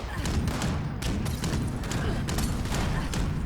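A Gatling gun fires in Fallout 76, a loud, unbroken stream of rapid shots that runs through the whole stretch as a dense, steady roar with faint repeating cracks.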